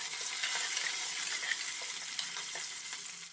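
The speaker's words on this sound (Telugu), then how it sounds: "ఉల్లిపాయలు మగ్గిపోయిన తర్వాత 2 రెబ్బలు కరివేపాకు వేసుకోవాలి." Onions and curry leaves frying in oil in a pan for a vegetable pulao, giving a continuous bright sizzle with small crackles, fairly quiet and steady.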